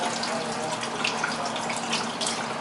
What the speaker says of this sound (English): rinse it right under cold water